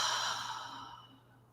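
A single long, soft exhale through the mouth during a yoga practice, close and breathy, fading out over about a second and a half.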